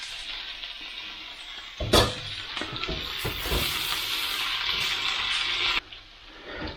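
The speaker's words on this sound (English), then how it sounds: "Those onions have picked up a bit of colour, these have dried off a bit. I'm just going to, yeah, they're good. Right, so in go with the potatoes." Potatoes drop into a hot pan with fried onions for corned beef hash, a burst of sizzle followed by steady frying hiss and a few stirring scrapes before it quietens.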